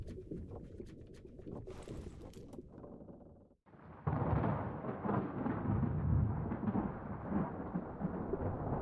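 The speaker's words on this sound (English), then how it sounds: "Storm's coming!" A storm builds in Return of the Obra Dinn, a deep rumble that breaks off briefly, then returns as a loud, sustained roar of wind and rain.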